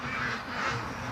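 Free-range ducks on a lake, stirred up by a dog, keep up a dense, continuous chorus of agitated quacking and honking at moderate distance, with no voices present.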